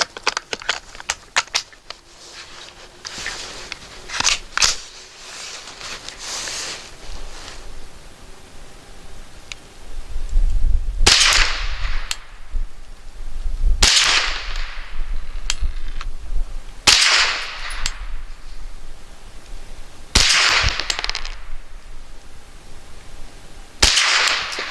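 Several sharp rifle shots from a Thompson Center TCR22 firing Aguila Super Extra 40 grain rounds, spaced a few seconds apart outdoors, each a loud crisp crack with a short tail, after quieter handling noises at the start.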